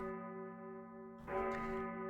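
A bell from the video game Vampire Survivors tolls to mark the game's end, a bright metallic strike ringing out over steady sustained game music partway through.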